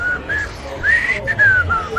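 A person whistles a TV theme tune, a clear, bright melody of several short rising and falling phrases, close and fairly loud over faint room noise.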